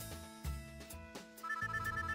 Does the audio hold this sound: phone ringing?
yes